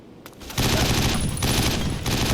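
Sustained burst of turret machine gun fire in the video game 50 Cent: Blood on the Sand, loud and dense after a brief quieter lead-in, continuing steadily to the end.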